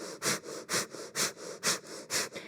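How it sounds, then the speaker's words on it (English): Rapid, forceful nasal breaths from a kundalini breath-of-fire exercise, about ten rhythmic pulses at an even pace, close and clear with no talking. "Again, another minute of breath of fire."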